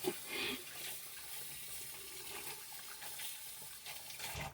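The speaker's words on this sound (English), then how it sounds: "I licked my fingers, so now I have to wash." A kitchen or bathroom tap runs while someone washes their hands, giving a continuous, fairly quiet hiss of flowing water with a few small splashes, and no talking.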